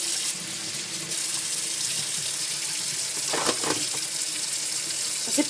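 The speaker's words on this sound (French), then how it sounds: "On va faire couler l'eau dessus." Tap water runs steadily onto a small piece of whipped cream soap in a sink, a constant close hiss with brief splashy changes near the end.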